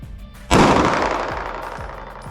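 A single sharp, loud 9mm gunshot cracks at close range against a Team Wendy EXFIL SL helmet on an outdoor range, followed by a long echoing decay and faint reverberating thuds.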